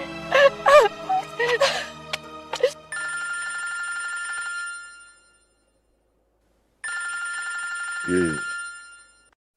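A telephone rings at night in two long bursts separated by a pause, steady electronic tones after some opening speech, with a voice speaking briefly near the end.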